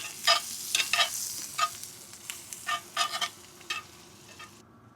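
Part-cooked potatoes sizzle steadily in a frying pan with a little garlic and olive oil while a utensil scrapes and stirs them in repeated close strokes.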